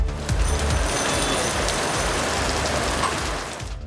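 Rain falling in Chennai, a dense, even wash of steady rainfall hissing on surfaces, loud and continuous before tapering slightly at the end.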